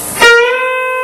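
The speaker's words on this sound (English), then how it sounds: "You go to the 11th fret of the B string and do a bend up and release." A single electric guitar note on the B string at the 11th fret, picked once and bent upward, then ringing on as a clean sustained tone with steady harmonics, alone and close.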